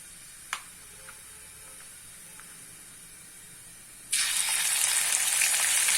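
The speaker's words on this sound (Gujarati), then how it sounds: "તેલ ગરમ થઈ ગયું છે તો 1 ટીસ્પૂન જેટલું જીરું એડ કરીશું।" About a teaspoon of cumin seeds drops into hot oil and breaks into a loud, continuous sizzle and hiss after a few faint clicks, with no talking.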